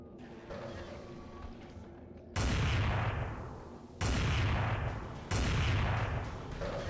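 A weapon in Vampire: The Masquerade – Bloodlines fires three heavy, booming shots at a slow pace, each a sharp loud crack with a long decaying rumble, over faint game ambience.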